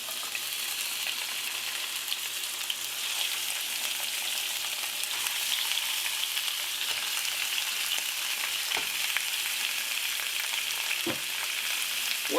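Pork chunks frying untouched in a hot pan, a steady loud sizzle and crackle holding evenly from start to finish with no talk over it.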